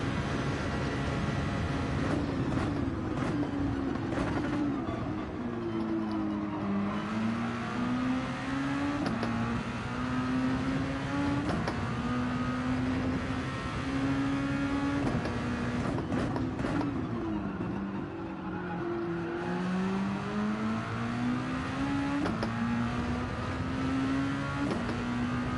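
Race cars in a Daytona racing video game hold a steady, loud engine drone with gliding pitch as they accelerate and shift, continuous throughout with no talking.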